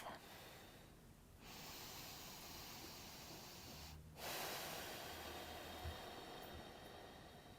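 Slow, deep breathing during a relaxation exercise: a long airy inhale and exhale cycle with short pauses between, close and soft over a faint steady background hiss.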